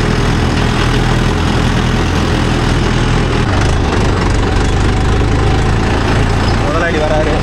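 Mahindra Yuvo Tech Plus 585 4WD tractor pulling a 9-tine cultivator through a field, its engine droning loud and steady at close range with a deep, even rumble and no break.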